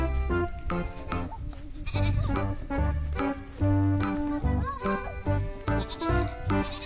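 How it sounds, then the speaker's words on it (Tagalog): Goats bleat repeatedly outdoors near a river, wavering nasal cries overlapping one another in quick succession, loud and close, with other background sounds mixed in. "Mga kambing."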